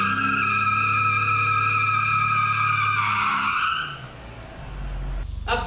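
Car tires spinning and squealing under power during a power test, a loud sustained screech with engine roar that drops away, then revs again near the end.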